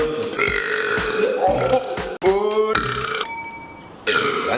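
A person lets out a long, loud, drawn-out burp close by, followed by a second shorter burp, with brief vocal sounds around them.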